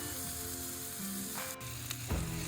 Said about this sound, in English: Now, I'm ready to get this patty on the griddle, seasoned side down.